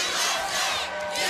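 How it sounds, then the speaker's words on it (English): A wrestling arena crowd chants in unison, a dense, loud roar of many voices swelling and dipping briefly. "He's having a stroke in there listening to this USA chant."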